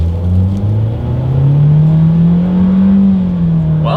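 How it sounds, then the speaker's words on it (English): A 2022 Nissan Kicks with a CVT accelerates hard in sport mode, a loud, steady engine drone rising smoothly in pitch with simulated shift-like steps, heard from inside the cabin without talk. "let's see how quickly we can get our new 2022 Kicks here up to speed"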